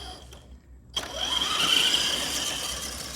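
RC4WD Carbon Assault RC car motor on nickel metal hydride power winding up in second gear, a rising whine after a short quiet pause, close and steady.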